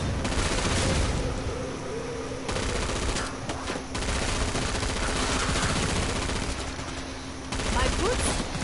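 Gunfire from guns in the game Killing Floor 2, heard as rapid fusillades and machine-gun bursts broken by brief pauses, loud and near, with a voice faintly underneath.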